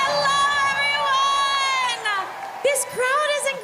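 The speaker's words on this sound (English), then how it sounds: "This crowd is incredible!" A packed convention audience at Star Wars Celebration 2022 cheers and whoops loudly and continuously, with high excited shouts layered over a steady roar of crowd noise.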